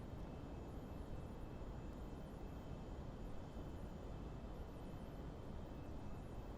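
Steady cabin drone of an Xtreme Prototypes GLJ 25 jet engine climbing out after takeoff from Nassau in Prepar3D v4.5, a constant broad roar with a faint whine, even and unbroken throughout.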